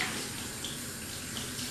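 Steady broadband hiss of water running from a shower or tap as hair is rinsed, continuous and fairly close with no talking.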